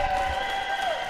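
Crowd applause and cheering at a squash match, a steady wash of clapping and voices held at moderate level for a short moment.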